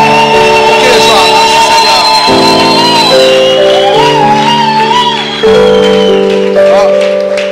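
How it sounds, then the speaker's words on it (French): A church congregation at a prayer meeting shouts and cheers for joy, a loud sustained mass of voices with music, filling the whole stretch with barely a break. "Pousse des cris de joie au Seigneur."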